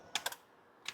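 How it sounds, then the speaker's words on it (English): A few sharp clicks from a relay behind the power seat controls of a 2011 Ford F-150: three quick close ticks, a pause, then one more, with nothing else audible. "you can hear a relay clicking"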